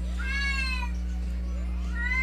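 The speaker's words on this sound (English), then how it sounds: "my cat somehow decided, hey, I'm just gonna randomly meow once again" House cat meowing during an online voice call, two drawn-out rising meows close to the microphone over a steady electrical hum.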